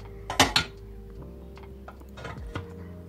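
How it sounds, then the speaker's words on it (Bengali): A metal cake tin being set down into a preheated pressure cooker on a gas stove, two sharp metallic clanks close together, then lighter knocks and scrapes against a low steady hum. "এবার কেক টিনটা এর মধ্যে বসিয়ে দিচ্ছি"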